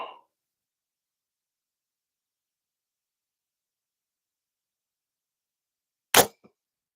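A single sharp crack of an arrow shot from a bow striking a target at about 20 yards, short and loud against near silence, with a faint knock just after.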